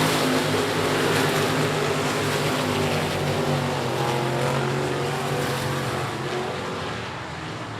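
Dirt race trucks roar around the I-37 Speedway oval in Texas, a loud, steady blend of several engines at full throttle that holds throughout and eases slightly toward the end.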